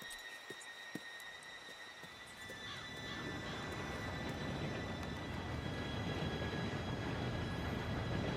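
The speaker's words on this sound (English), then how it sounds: "Train should be here any minute now." A train arrives in Red Dead Redemption 2, a low rumble that swells and keeps building after a few seconds, with faint horse hoof clops and a whinny early on and no voices.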